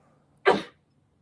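A single short sneeze from someone in a seminar room, close and fairly loud, a quick burst standing alone against a quiet background.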